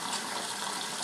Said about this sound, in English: you're going to want to top that off with some water